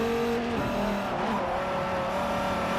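Dodge race car in Forza Motorsport 4 (game audio, Maple Valley circuit), steady engine drone with a rising whine that shifts pitch after a gear change, continuous and loud, no voices.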